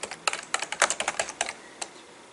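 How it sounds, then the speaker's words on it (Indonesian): Quick bursts of clicking keys on a computer keyboard, a rapid run of a dozen or so taps that thins out to one final stroke, close and crisp with nothing else audible. "Ditulis dengan mengeklik tombol M ditambah dengan string di atas angka 6."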